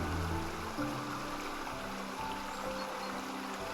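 Water flows steadily across a pond in the video game Botany Manor, a continuous close trickling stream layered with soft tonal game ambience and no talk.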